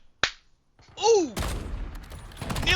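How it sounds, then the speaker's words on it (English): Pistol shots in a competitive team video game match, with a sharp crack, a whistling sweep, then a flurry of rapid snapping shots and impacts, loud and close. "He hits him with a load of pistol shots as well"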